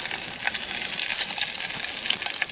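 Sausage and fish sizzle in a hot Stanley pot over an outdoor bushcraft cookfire, a steady bright crackling hiss with small pops, close and continuous with no voices.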